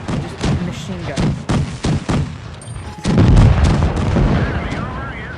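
Rapid bursts from an MT-25 machine gun in a video game, a string of sharp close shots followed by a heavier rumbling barrage.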